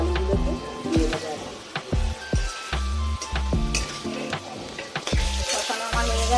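Pre-fried cauliflower and potato pieces hiss and sizzle in hot oil in a pan, a steady close frying crackle punctuated by intermittent clinks and stirring knocks.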